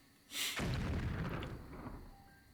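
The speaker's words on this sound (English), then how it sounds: "Some kind of explosion?" A single booming explosion in the video game Atelier Ryza erupts suddenly, its loud blast decaying into a long rumbling tail.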